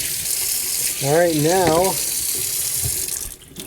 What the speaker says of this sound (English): Okay, we're gonna rinse it off.